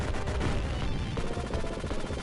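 Rapid, continuous gunfire from the Contra video game, a dense run of quick repeated shots layered over busy game sounds, steady and moderately loud without any talking.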